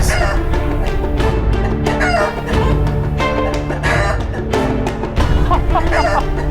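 Chickens cluck and a rooster crows amid a loud, busy mix of other sounds, dense and continuous throughout.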